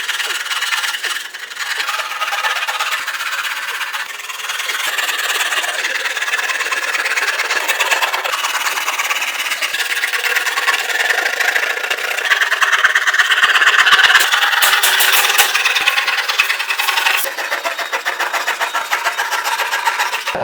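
A power tool cuts gypsum board with a continuous harsh, rasping whine that holds steady for the whole stretch and grows slightly louder midway.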